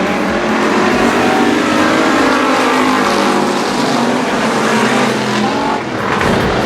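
Race cars roar down the front stretch at a night dirt-track heat, a loud continuous engine drone with overlapping passes and shifting pitch.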